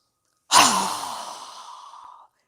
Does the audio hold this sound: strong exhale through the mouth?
yes